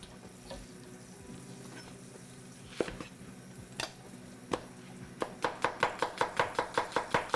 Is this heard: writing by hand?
no